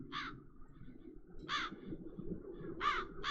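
Crows in the video game The Dark Eye: Chains of Satinav, three separate harsh caws spaced about 1.3 seconds apart over a murmuring low ambient background.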